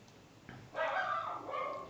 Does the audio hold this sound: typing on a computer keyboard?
no